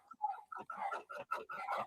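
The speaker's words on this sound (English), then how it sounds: "My dogs are barking too hard." Several household dogs barking and yelping indoors in a quick, uneven string of short barks, moderately loud and close, with no talk over them.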